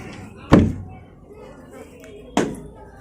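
A door opening at home, two sharp knocks or bumps about two seconds apart, fairly close, over a low room background with a faint voice in between.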